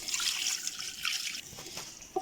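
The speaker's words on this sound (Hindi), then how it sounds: "Now I'm going to add the water in it and I will cook it on very medium flame" Water poured into a pot of cooking beef and peas, a close, bright splashing gush that fades into trickles and a final small drip, no talking.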